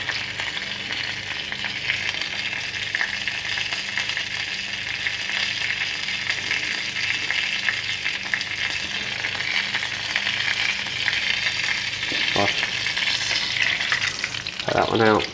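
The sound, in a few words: filo pastry spring rolls frying in a pan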